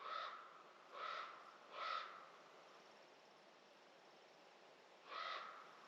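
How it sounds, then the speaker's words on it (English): A raven calls loudly outdoors at a campsite, three harsh croaking calls in quick succession, then a pause before a fourth, each call clear and close against a quiet background. "That raven is going nuts."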